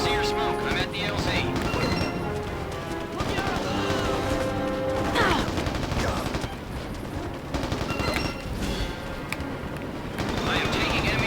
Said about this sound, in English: I am taking enemy fire